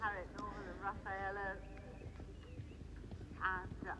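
A horse gallops over a cross-country eventing course just after landing a fence, its hoofbeats and breathing dull and steady beneath a rider's intermittent talking.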